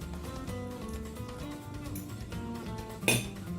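Cutlery clinks against a plate during a bite of egg omelette, one sharp bright clink near the end over a low background hum.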